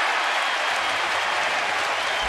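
Crowd at a major league baseball stadium, Tampa Bay at Baltimore, applauding after a ground-ball out to shortstop in the eighth inning, a dense steady wash of clapping and crowd noise.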